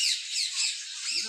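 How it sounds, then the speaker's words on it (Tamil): A bird calls with a continuous high, scratchy squawk, sparrow-like rather than parrot-like, close and loud for just over a second, with a faint low sound at the very end. "என்னமோ குருவி மாதிரியே கத்துதே, கிளி மாதிரியே கத்துலையே"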